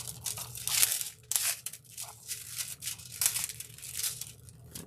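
A stencil being slowly peeled up off foil and adhesive, giving irregular crinkly tearing and crackling bursts, close and fairly loud, with short pauses between pulls.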